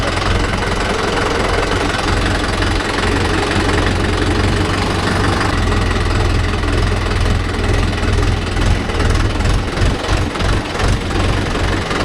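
Mahindra Yuvo Tech+ 585 DI tractor engine running steadily, a loud close diesel throb with a knocking rhythm and vibration, rising to slightly rougher pulsing near the end, without speech.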